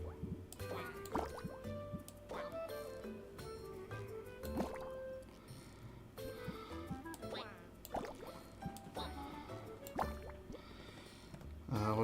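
Chimera Waste pours in the potion-brewing game Potionomics, with liquid drips and squishy sloshing over a busy backdrop of game music and effects, steady and moderately loud throughout.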